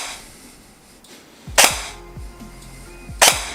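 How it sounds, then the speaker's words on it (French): A Cybergun FN Herstal SCAR-SC airsoft AEG with an ARES EFCS gearbox fires on semi-auto: two loud, sharp, close shots about 1.6 seconds apart, with a fainter mechanical click between them and no talking. "c'est une gearbox EFCS, on peut quand même enchaîner le semi"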